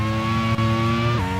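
A Lola race car's engine drones loud and steady in a racing game while the car is on fire, a sustained high harmonic whine that briefly dips, then drops in pitch as the revs fall.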